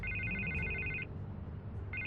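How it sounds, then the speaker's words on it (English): Telephone ringing in the Telltale Batman video game, a loud electronic trill in two bursts separated by a short gap, over a low music bed. "I can't get the phone to stop ringing."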